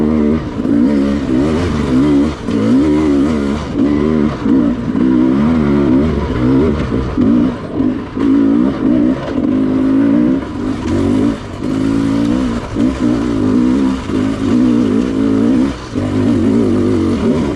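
A Sherco dirt bike pulling away in first gear on a trail, its engine loud and close, revving in repeated surges and dips as the throttle opens and closes.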